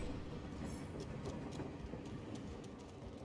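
A train rumbles steadily along in a Call of Duty: Warzone match, with a dense low roar and faint rhythmic clacking that stays at an even level throughout.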